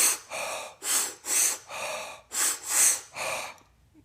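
Seven deep, fast breaths in a steady rhythm, close and loud, demonstrate a holotropic breathwork technique. The breathing is forceful and evenly spaced, with no talk over it.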